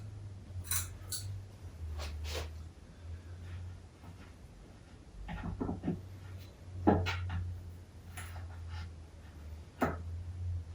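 Scissors snipping a little off the bottom of a stem during a Delhi floral demonstration; several sharp, separate cuts spaced over the span, close and fairly quiet, with a low hum underneath and no talk.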